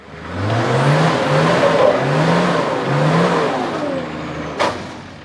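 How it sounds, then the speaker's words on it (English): A single cab GQ four-wheel drive on twin lockers and 35-inch tyres revs hard on a steep hill climb, the engine rising and falling in repeated surges, loud and close, ending with a sharp knock. "He's driving a single cab GQ twin locked 35s."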